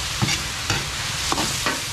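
Vegetables being sautéed in a pan with a steady sizzle and several scrapes of a stirring utensil at intervals, close and moderately quiet, with no talking.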